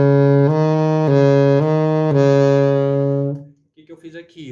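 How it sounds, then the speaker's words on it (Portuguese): Saxophone holding a low B-flat note, a rich, full-bodied tone sustained for about three seconds with slight shifts in articulation, then released into quiet with faint breathy noise. "Esse é o som do si bemol."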